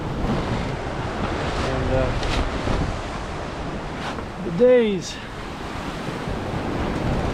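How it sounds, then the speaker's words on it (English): Ocean waves wash and water slaps against the hull of a sailboat crossing the Pacific from Newport Beach to Honolulu, a steady broadband rush with one louder splash near the middle, under a few brief spoken words. "it is very noisy as the waves and water slap the hull"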